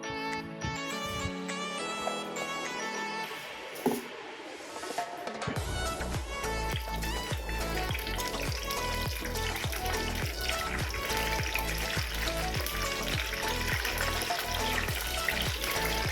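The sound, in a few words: oil poured into pan, mustard seeds spluttering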